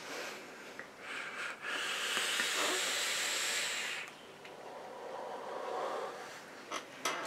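Steady breathy hiss of vapour from an Uwell RafaleX vape running at 40 watts, rising for a few seconds of draw then easing off, close and fairly quiet with no talk.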